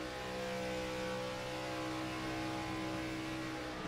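A Gen 4 SS race car engine heard from on board in a racing video game, a steady, loud mid-pitched drone with harmonic whine holding constant throughout, no voices over it.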